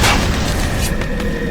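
A loud booming gunshot in the video game Bioshock Remastered bursts out at the start and then rolls off into a long, dense rumble with a couple of faint later cracks.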